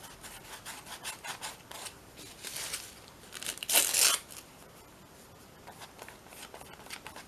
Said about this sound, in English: So let's just rip some of these bits off